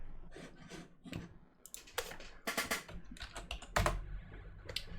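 Clattery keystrokes on a computer keyboard tap out in quick irregular bursts, close and fairly loud, with short pauses between runs of keys.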